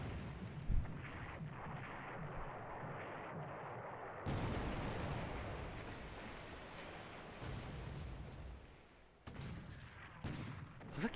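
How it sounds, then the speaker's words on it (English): Naval gunfire and shell bursts in the World War II strategy game War in the Pacific, a steady rumbling barrage of deep booms with a few sharper cracks, sustained and loud throughout with brief dips. "Looks like he's firing back at us."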